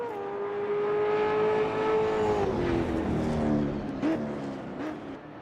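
A stock car in the Automobilista 2 racing game laps the Goiania circuit during qualifying. One loud, close engine holds a steady high drone, then the pitch drops and wavers as the car slows toward pit road, with no talking.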